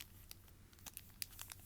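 Crinkling of the resealable plastic bag around a mini album, soft scattered crackles and rustles that grow busier toward the end, close and quiet, with no talking.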